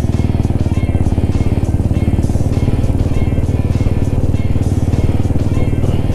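Motorcycles on a group ride toward Devbag beach from Belgaum, a loud, steady close engine drone with a rapid rhythmic throb throughout.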